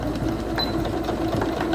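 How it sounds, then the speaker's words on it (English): A Singer Quantum Stylist 9960 computerized portable sewing machine runs backward stitches, a steady close mechanical whir with quick rhythmic needle clicks, heard alone. "press and hold the reverse button to sew backwards a few stitches"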